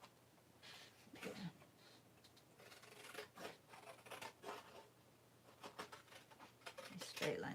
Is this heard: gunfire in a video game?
no